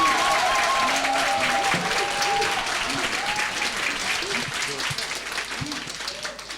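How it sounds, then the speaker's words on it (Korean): A church congregation applauds the pastor with continuous, dense clapping that slowly fades, while voices and a few cheers sound through it. "applause"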